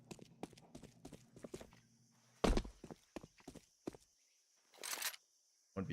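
Footsteps in Counter-Strike 2 during a competitive match, a run of quick, crisp steps early on followed by scattered louder thumps and clicks, with commentators talking over the action.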